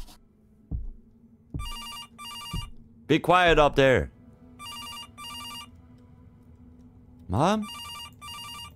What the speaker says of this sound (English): Oh, that's the door phone, probably.